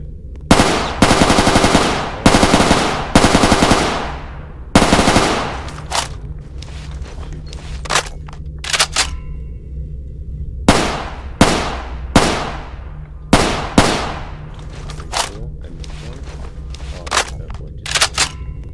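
MP5 submachine gun fire rings out at a shooting range in the Roblox game, with sharp close bursts and single shots repeating in an uneven rhythm over about eighteen seconds, loud, with no talking.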